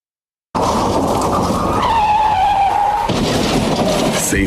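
Tires squeal loudly in a long skid as a car slides through traffic on the road, a rising screech that holds for a few seconds before ending in a rough scrape and clatter.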